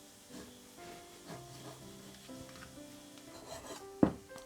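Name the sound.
knife slicing Parma ham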